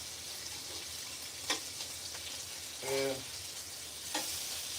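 Bacon fries in a pan with a steady, faint, close sizzle. Occasional clicks and a brief tonal clatter break in, and a voice says a single word.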